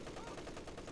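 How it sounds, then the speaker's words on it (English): MG42 machine gun fire in the video game Spearhead, a dense rapid rattle of shots heard for under a second beneath ongoing commentary. "Oh, there's an MG42, very powerful weapon."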